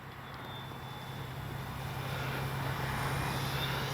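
An FMS 1400mm F4U Corsair RC warbird flies at a distance, its electric motor and propeller giving a steady hum that slowly grows louder over a few seconds of outdoor air.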